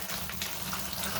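Water splashing steadily onto a dirt block, a continuous rushing, close-up pour with no talk over it.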